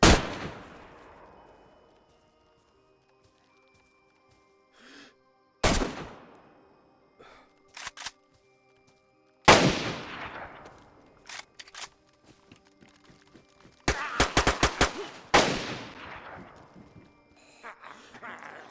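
Gunshots in the game DayZ, sharp separate cracks that each ring out and decay, some single and some in quick clusters, spaced across quiet stretches.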